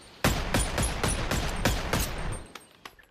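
Rapid bursts of video game gunfire, about eight loud shots in a steady rhythm followed by a few fainter trailing pops as the firing tapers off.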